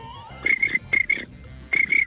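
A voice imitates a cricket, producing short, high-pitched chirping bursts in a quick rhythmic series, loud and close.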